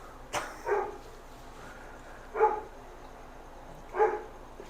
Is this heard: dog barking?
yes